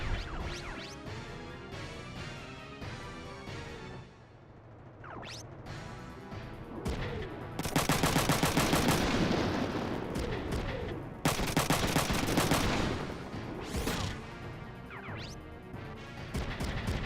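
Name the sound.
gunfire in video game Front Mission 3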